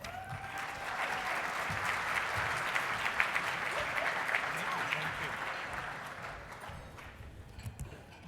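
An audience at an Arizona awards event claps to welcome a reverend to the stage, sustained applause from a sizeable crowd that swells and then tapers off.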